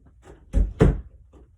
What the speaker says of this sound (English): Somebody needs to shut the door.